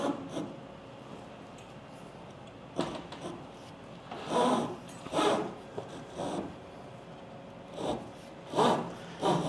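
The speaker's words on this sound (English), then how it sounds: "now we're gonna push the threaded rod through the hole" Threaded rod scrapes and rasps as it is pushed through drilled holes in a wooden chicken coop frame, with several separate grinding pushes spread across a quiet workshop, moderately close.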